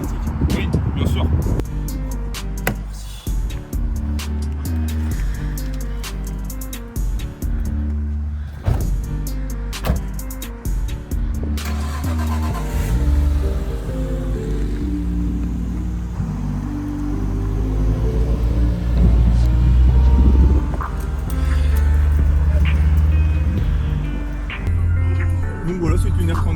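Nissan Skyline R34, the 2 Fast 2 Furious car, with its engine running and rumbling steadily at low revs throughout, under almost continuous close conversation between two people.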